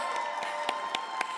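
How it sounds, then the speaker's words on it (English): An audience at an awards ceremony claps and cheers, with a dense wash of applause and a few sharper claps standing out. "with the awesome cheering section"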